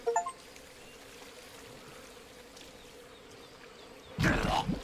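A short, loud splash of water from Metal Gear Solid Delta: Snake Eater as the character drowns in shallow water. It bursts out near the end after a few seconds of quiet background ambience.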